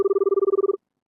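A telephone rings once in a campus administration office, a bright rapid electronic trill pulsing about sixteen times in under a second before cutting off sharply, close and clear with no talk.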